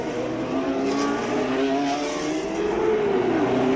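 1981 Formula 1 cars heading for the grid rev and drone nearby, engines rising and shifting in pitch as they move off, with a car sweeping past toward the end.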